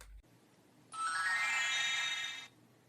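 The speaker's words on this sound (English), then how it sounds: "I got a notification for something" A phone notification tone rings out alone for about a second and a half, a bright, sustained chime-like melody, fairly loud against a quiet room.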